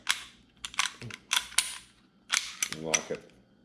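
Springfield XD-9 pistol, unloaded, being field-stripped: a series of sharp metallic clicks and clacks as the slide is racked back and locked, in close, quick bursts with brief pauses between.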